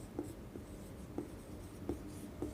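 Handwriting during a spoken-English lesson as the first example sentence is written out: a series of short, scratchy pen strokes at uneven intervals, close and fairly quiet, with no talking.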